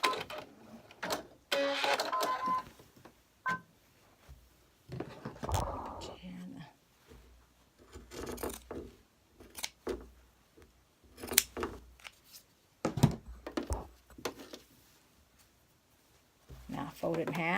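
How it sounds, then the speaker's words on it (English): Pinking shears snip through fabric in a series of short crunchy cuts with pauses between, close up, while a person talks quietly over and between the snips. "I'm just going to cut it off with our peeking shears"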